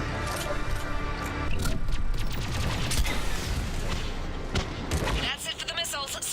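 Missiles fire in Mass Effect 3 on the Priority Thessia mission, a loud run of rapid booming blasts and crackling bursts that thin out toward the end.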